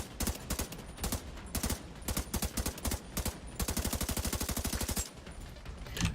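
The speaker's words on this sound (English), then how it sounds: "I was just shooting those guys over there." Rapid bursts of automatic gunfire from a video game, loud and continuous in repeated volleys, with a dense machine-gun stretch followed by a brief pause and more shots.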